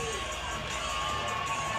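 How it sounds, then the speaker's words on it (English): A wrestling crowd at a Nashville fight night cheers as a wrestler enters, a dense, steady wash of shouting and applause from a packed room, with commentary voices running underneath. "everyone is on their feet. Everyone is cheering."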